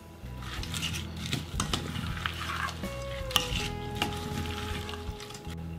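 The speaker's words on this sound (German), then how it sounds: "Ich gebe die Mandeln jetzt dazu und verrühre sie noch." Almonds stirred into melted butter and sugar in a pan, giving steady scraping and clinking of a spoon against the pan over a soft continuous sizzle, with irregular knocks throughout.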